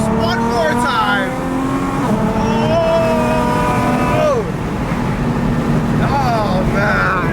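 A widebody Nissan GTR revs and accelerates hard, its engine note climbing through several gear pulls with rising and falling whines, loud and close, with a voice briefly heard alongside.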